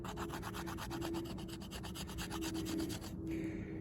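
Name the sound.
knife spine scraping fatwood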